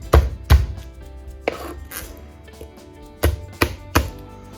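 A couple of garlic cloves are bashed with the flat of a kitchen knife on a board, giving sharp, close thumps in two pairs with quiet gaps between, no voices.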